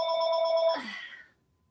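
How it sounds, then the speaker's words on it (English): A house telephone rings once with a bright electronic trill that cuts off into a short descending tail, then quiet. "don't know why anybody calls my house phone anymore."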